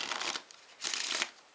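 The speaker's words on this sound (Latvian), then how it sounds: "Tātad samaisīsim kārtis." Playing cards shuffled for a magic trick tutorial: two quick, close papery riffles, each a dense crisp rustle lasting about half a second, separated by a short pause.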